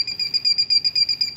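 A parking sensor fitted to a Mercedes-Benz truck gives a rapid train of high-pitched electronic beeps. About eight pulses are spaced evenly, loud and close, with no talking.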